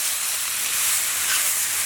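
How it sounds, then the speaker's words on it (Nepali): Local chicken frying over an open village fire in Nepal, a steady, close hiss and sizzle of hot fat that holds evenly throughout with no pauses. "Now he's frying local chicken."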